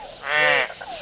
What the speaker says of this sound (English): That was a red-eyed tree frog, the one that went flip